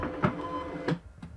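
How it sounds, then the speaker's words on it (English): A desktop printer outputs a FedEx shipping label, giving repeated mechanical feed bursts with a steady whirring motor between them, close and moderately loud, with no voices. "your shipping label should print out of your printer"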